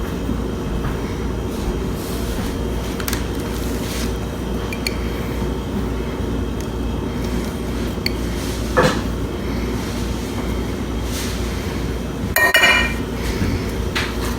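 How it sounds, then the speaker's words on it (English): Egg, salt, onion powder and almond flour are stirred together in a bowl, giving continuous scraping and knocking. There are a few sharper clinks, and a louder clatter near the end. "Get this all mixed together."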